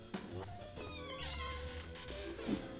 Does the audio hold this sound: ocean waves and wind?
no